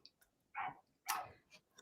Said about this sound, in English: so the dogs are very excited